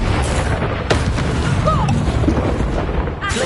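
Explosive Confringo fire spell in the Hogwarts Legacy video game, a booming blast over dense, continuous combat noise with a sharp burst near the start and another near the end, with faint voices in the mix.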